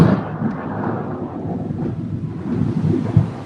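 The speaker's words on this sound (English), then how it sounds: "We're fixing for a storm, Marty. Did you hear that?" Thunder from an approaching storm, a low broad rumble rolling on for a few seconds, swelling and ending in a heavier crack near the end, with a faint hiss of wind or rain and no voices.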